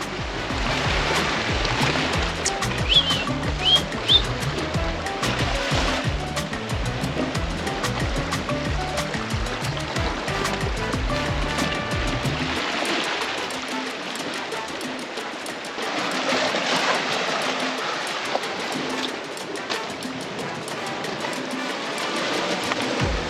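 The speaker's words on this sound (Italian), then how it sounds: "Qui siamo sulla scogliera Guardate che mare, ragazzi." Heavy sea surging against a rocky cliff, a steady loud roar of surf with swelling wash and breaking water throughout, no voices over it.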